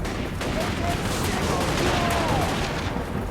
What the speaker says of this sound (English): Fire the pistols!